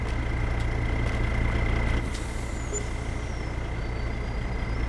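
A lorry in Farming Simulator 22 idles with a steady low engine rumble under a constant high reversing beep tone, close and continuous, with faint hissing of air brakes.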